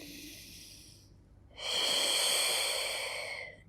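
Deep, slow breathing during a Pilates rest position: a soft breath in, a short pause, then a longer, louder airy exhale heard up close, with no talking.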